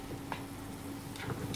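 Eggs with cream stirred gently in a Tefal frying pan for an omelette with girolles and lardons, giving faint, soft scraping strokes over a steady low sizzle.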